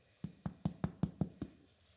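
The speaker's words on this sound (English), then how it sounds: "check if the bread is ready when you knock on the bottom" Seven evenly spaced, hollow knocks on the bottom of a baked Swiss braided butter loaf (Butterzopf). They are close and fairly quiet, with a steady rhythm and nothing else in the background.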